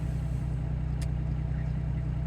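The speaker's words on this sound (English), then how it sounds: "The truck's still warming up." A truck engine warming up, idling as a steady low rumble with an even hum throughout and one brief click partway through; no one speaks.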